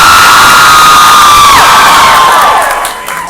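A convention panel crowd at NJCON 2012 screaming and cheering loudly and continuously, with whoops over a dense roar that fades slightly at the end.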